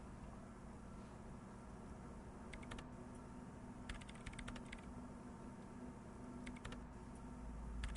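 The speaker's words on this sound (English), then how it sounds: "She clocks up her typing speed." Rapid keyboard typing from the Disco Elysium video game: short bursts of crisp key clatter come in clusters over a low, steady ambient hum, fairly faint and with no voices.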